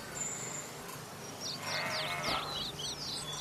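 Several sheep bleat in a rough, wavering cluster over a field, the calls rising from faint to fairly loud and overlapping near the end against a steady outdoor hiss.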